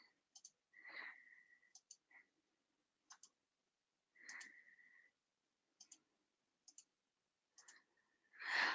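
Quiet, crisp mouse clicks come in small spaced pairs and singles while someone works through document tagging on a computer, with a soft breathy sigh or two between them.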